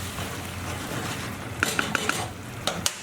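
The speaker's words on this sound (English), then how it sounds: "So we just want to toss it through like that." Orange chicken tossed with chopped spring onions in a pan, a soft stirring rustle broken by several sharp clinks of a utensil against the pan, close and fairly loud, with no talking.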